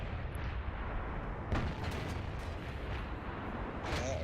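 Booming World of Tanks cannon fire from heavy tanks such as the IS-7, with a few distant blasts standing out over a dense, continuous rumble of battle noise and no talking.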